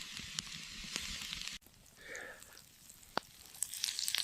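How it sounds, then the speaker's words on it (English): Venison steak searing in a hot cast iron pan, a soft steady sizzle with faint crackles and pops, fairly quiet with no voices. "When searing a steak on cast iron, you want to make sure you have a good hot pan."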